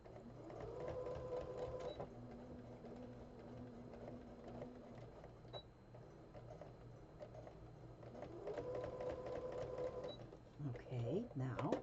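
Sewing machine putting a couple of stitches through a journal's magnet closure over foam, short rapid mechanical bursts of stitching at the start and again near the end, separated by quieter handling noise, all at low level.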